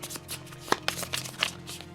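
A deck of cards being shuffled during a Marvel Champions tabletop game, close crisp riffling and flicking with a few sharp snaps, brief and up front with no voices.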